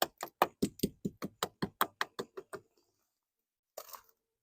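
A tool strikes hard ice crusted on a car during an ice storm, giving a fast run of about fifteen sharp, evenly spaced knocks. After a pause come two final taps close together, and no one speaks.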